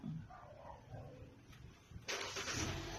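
A Hyundai Accent triggered by remote start: quiet shuffling and faint sounds first, then after about two seconds the engine cranks and catches, settling into a steady, close idle with a hissy roar.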